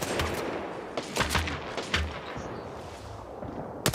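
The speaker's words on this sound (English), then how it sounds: "firing a few warning shots across to one another" Gunfire trades in the Apex Legends game during a pro league match, several distant sharp shots in short clusters spread across a few seconds, over a steady ambient backdrop.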